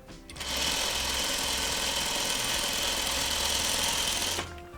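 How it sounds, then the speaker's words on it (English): A sewing machine stitching a Courthouse Steps quilt block, one continuous fast whirring run of needle strokes lasting about four seconds, close up and loud, starting and stopping abruptly, with no talk. "Now I'm gonna sew the top part of it."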